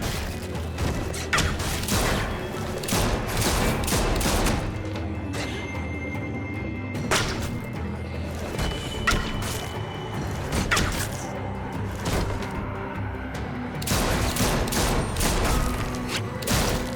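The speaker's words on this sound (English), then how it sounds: "And she just shot an extra bullet" Gunfire in The Walking Dead: The Final Season video game, with a dense run of loud shots and bursts, some crashing and mechanical clatter mixed in, continuing steadily for the whole stretch.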